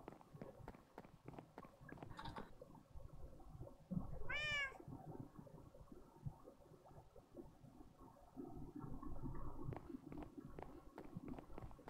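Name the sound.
cat meowing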